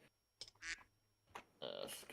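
A cartoonish duck quack sound effect, played as a soundboard button during a podcast, pops out in a few short bursts among light clicks and brief voice fragments.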